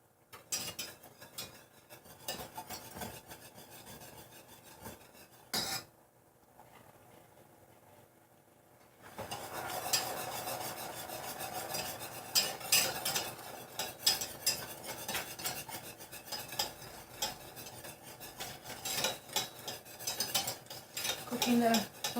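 Spoon scraping and stirring flour into pan drippings for gravy, a sparse patch early, then a quiet lull, then busy continuous scraping and clinking against the pan for the rest.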